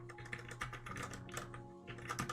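Fingers clatter across a computer keyboard in a quick, uneven flurry of clicky keystrokes, close and steady, no voices.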